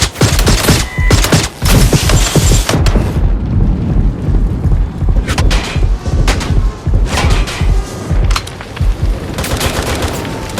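Gunfire in the Watch Dogs Legion video game, loud sustained bursts of automatic weapons and booming shots that continue almost unbroken, with dense rapid volleys and a short lull partway through.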